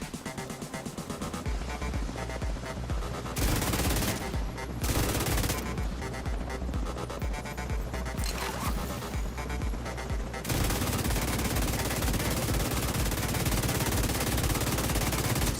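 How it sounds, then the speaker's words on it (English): Light machine gun fire in The Division 2, long rapid bursts of loud, dense shots broken by short pauses, with other gunfire and game noise underneath. "Spend a lot of time shooting with the LMG though."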